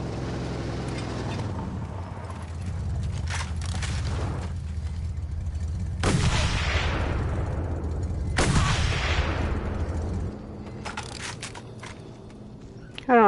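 Enemy gunfire in the Mad Max video game, a dense run of loud booming shots and blasts over a steady vehicle rumble, with two sharp, heavy reports standing out midway and a final burst at the end.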